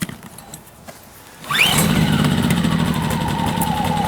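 A GTM R2500IS 2.5 kW inverter generator's engine starts abruptly after a quiet lead-in, then runs at a steady, loud mid-pitched drone while warming up, with a faint whine on top.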